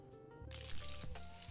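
Water pours onto hard, dry soil around a newly planted arabica coffee seedling, a faint, close, steady wet splashing and soaking sound.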